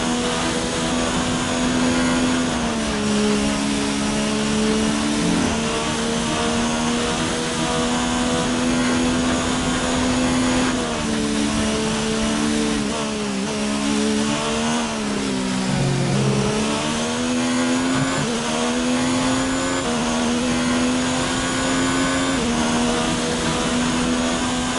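An F1 car engine in the F1 2019 racing game, slightly down on power with minor wear, holds a loud continuous high-pitched whine as revs climb and dip through gear changes, with no talk.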